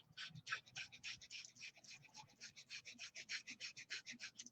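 Rapid, short kundalini breath-of-fire exercise, a fast run of about twenty sharp breathy huffs close up with a quick even rhythm in near-silence, ending in a sudden louder burst.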